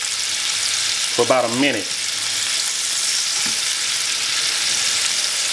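Chuck roast searing in a hot pan, a steady close sizzle and crackle of frying meat running throughout, with someone briefly speaking over it.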